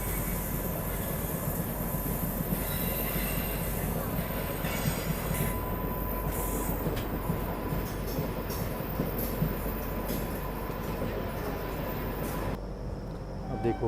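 A late-running Patna–New Delhi special train pulling out of a station, wheels rolling steadily on the rails with squealing and a continuous loud rumble, heard from on board.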